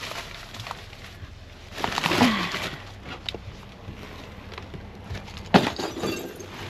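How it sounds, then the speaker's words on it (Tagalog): While bags of dumpster trash are being sorted, something, probably glass, breaks with a brief crunch and clink amid rustling plastic and handling noise, followed by another sharp knock, all close to the microphone. "Nabasag na ata."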